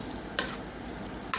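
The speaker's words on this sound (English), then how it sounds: "the more you stir, you're gonna grab stuff from the bottom because of the juice from the beans" A spoon stirs beans in a cooking pot, giving a soft, close, steady wet shuffle, with two brief scrapes against the pot.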